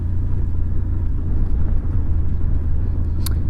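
A Triumph Cross Tourer motorcycle carrying two riders and camping gear rides an unmade green lane, giving a steady, close, low engine drone with rumbling road and wind noise throughout.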